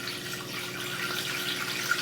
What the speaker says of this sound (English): I'm gonna add a little water in here.